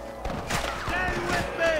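Gunfire in Red Dead Redemption, set in Pike's Basin, comes as several sharp shots mixed with shouting voices and whizzing bullet sounds, moderately loud and close.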